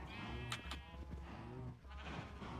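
Sheep in the video game Minecraft bleat in a couple of short, quavering calls, fairly quiet and close, over a low steady background hum.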